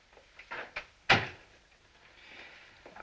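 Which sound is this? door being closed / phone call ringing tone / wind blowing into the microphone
door being closed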